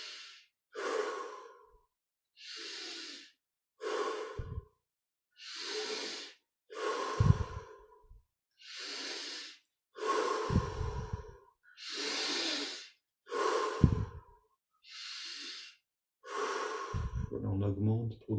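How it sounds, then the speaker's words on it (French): Slow, deep breaths during a yoga exercise, each inhale and exhale long and airy with pauses between them, close up and repeated about a dozen times, with a few soft low thumps and a brief murmur near the end. "Et on respire profondément."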